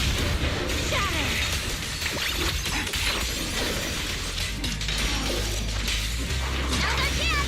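A loud shattering smash effect from Zenless Zone Zero combat, with dense crashing and breaking debris layered over a constant driving backdrop of game music and effects.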